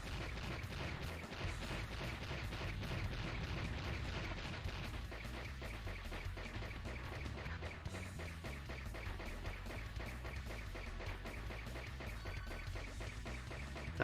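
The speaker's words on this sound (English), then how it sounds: "Gotta watch out for the explodey beans." Repeated popping blasts from exploding beans in the Blaster Master: Blasting Again boss fight, a steady stream of game sound effects over looping music, fairly quiet overall.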